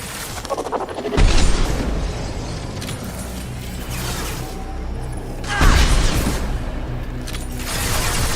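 Heavy weapons fire and explosions in the video game Mass Effect 2, a dense roar of booming blasts and gunfire with two big surges of impact, loud and continuous throughout.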